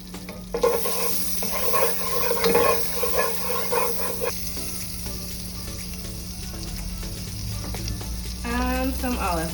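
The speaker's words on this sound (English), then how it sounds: "I just added some butter to the pan" Butter sizzling in a pot at the start of garlic mushrooms, a steady close hiss and crackle that runs throughout, with occasional stirring clatter on top.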